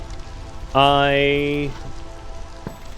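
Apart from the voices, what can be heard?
storm rain in the video game Against the Storm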